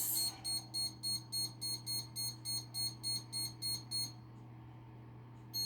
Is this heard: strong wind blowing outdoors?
no